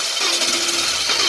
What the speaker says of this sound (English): crank it again